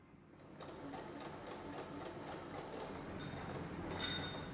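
A sewing machine runs continuously, stitching swimsuit straps with a 1 cm seam allowance, a steady fast mechanical whirr and rattle heard up close and fairly quiet, with no talking.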